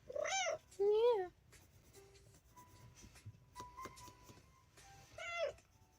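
Lexi, a ginger cat, gives two loud, rising meows close by, then a quieter stretch of soft rustling and scratching, and a third meow near the end.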